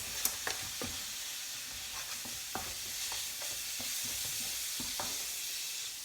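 Vegetables and prawns stir-frying in a hot pan with soy sauce, a steady close sizzle broken by several sharp clatters and scrapes of stirring, with no voices.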